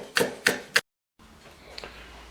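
A cleaver chopping green onions very finely on a board for xiao long bao filling: three crisp, evenly spaced chops, then a short silence and faint handling.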